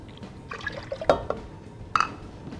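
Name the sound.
apple juice being poured into a pot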